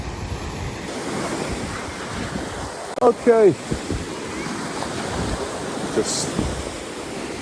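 Sea waves washing onto a beach, a steady roar of surf mixed with blustery wind noise on the microphone, with someone briefly speaking over it partway through.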